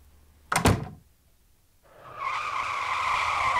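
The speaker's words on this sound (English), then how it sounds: "It sounded like he walked right into traffic. It sounded like a car hit him." A car's tires screech in a brief, sharp skid in traffic, then quiet before a steady roar of passing traffic rises and holds.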